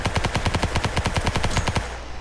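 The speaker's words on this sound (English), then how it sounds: "thankfully I can just shoot through it." Rapid automatic gunfire in the Ancient Warfare 3 video game, shots blasting through a code lock in a fast, steady burst of about fifteen loud rounds that stop abruptly near the end.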